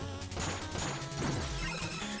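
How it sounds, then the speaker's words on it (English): In Shovel Knight, a checkpoint lantern shatters with a short, loud glassy crash and crunch, followed by a brief bright chime and game music underneath. "you can shatter the checkpoints to get some extra gold"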